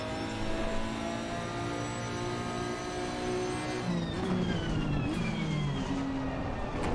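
A Nissan race car engine in Assetto Corsa Competizione drones steadily at high revs with tonal whine, then the pitch drops and shifts partway through as the car changes gear or slows, loud and continuous throughout.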